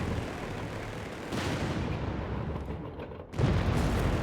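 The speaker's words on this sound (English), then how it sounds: "Good shot there from the Sherman" In a Company of Heroes 3 battle, a Sherman tank gun fires at a Panther, with heavy booming blasts over a continuous rumble of combat and a sharp report near the end.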